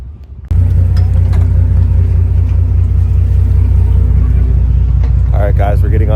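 Deep, steady low rumble of the Catalina Express ferry's engines, loud and constant after a sudden start, with someone talking over it near the end.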